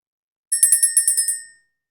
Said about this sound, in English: we're going to ring the bell, clear the energy